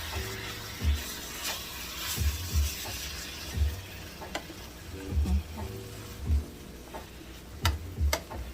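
Ground meat browning in a hot pan with a packet of sazon seasoning, a steady close sizzle broken by occasional stirring clicks and scrapes, with no voices.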